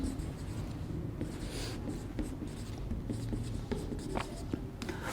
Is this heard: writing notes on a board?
yes